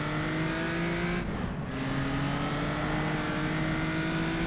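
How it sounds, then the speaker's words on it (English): Ferrari historic race car on the Rouen road circuit pulling away under hard acceleration, a loud, steady engine roar heard from a following car, with the rising pitch dropping briefly at a gear change before climbing again. "that Ferrari pulls away here as it accelerates"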